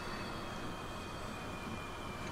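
Trains rolling past in Transport Fever 2, a faint continuous broadband rumble and rush with thin high whining tones running through it, steady with no breaks.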